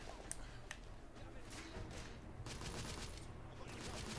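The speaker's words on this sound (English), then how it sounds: "the shotguns are pretty powerful in this game" Shotguns boom in the video game The Order: 1886, several faint blasts spaced irregularly over a steady background of game noise.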